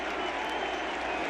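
Baseball stadium crowd cheering and applauding a defensive play at an MLB playoff game, Texas against the Blue Jays, a dense, steady roar of distant voices and clapping throughout.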